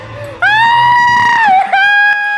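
A girl lets out a loud, sustained, high-pitched scream, close and piercing, breaking briefly and then rising again for a second burst during a hide-and-clap horror game.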